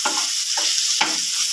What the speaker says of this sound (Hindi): अब हम इसको अच्छे तरीके से मिक्स कर देंगे